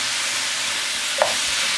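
Ground beef keema being stirred in a hot pan with tomatoes and salt: a steady, close sizzle with one soft scrape of the spoon partway through.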